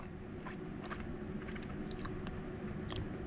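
Someone chews liquid-smoked boiled salmon with hot sauce, giving close, steady wet mastication with soft squishy bites and occasional sharper crunchy clicks over a constant background hiss.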